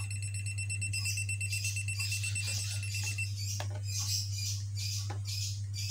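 An AC voltage detector pen held near an electrical cable gives off a rapid, high-pitched electronic beeping in quick repeated bursts, close and fairly quiet over a constant low hum.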